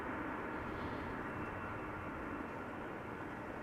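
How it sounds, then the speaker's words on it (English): Distant, faint roar of a DHL Airbus A300 cargo jet arriving at Amsterdam Schiphol Airport, a steady broadband engine rumble without speech. "The DHL A300."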